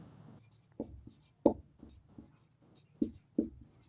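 A pen scratches across paper while a class 10 maths problem is worked out, giving short, quiet strokes and taps at irregular intervals with brief pauses between, close and faint, with no talking.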